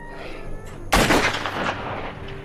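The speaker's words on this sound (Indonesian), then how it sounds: "sebelum Zack menembak kepala Beth untuk membebaskan dia dari segala penderitaan" A single sharp, loud gunshot cracks out in a zombie film scene as Zack shoots Beth, its booming blast decaying over about a second above a quiet background.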